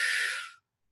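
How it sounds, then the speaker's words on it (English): One big deep breath drawn in close to the microphone, a loud airy rush lasting about half a second that fades out into silence. "take a nice big deep breath"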